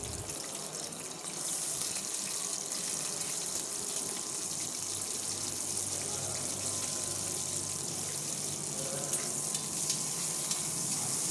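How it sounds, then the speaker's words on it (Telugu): Chopped onions and green chilies fry in oil in a pan, giving a dense, even sizzling hiss that swells just after they go in and then holds steady and close; no speech. "చాప్ చేసుకున్న ఆనియన్స్ అండ్ అలానే చిల్లీస్ కూడా యాడ్ చేస్తున్నాను"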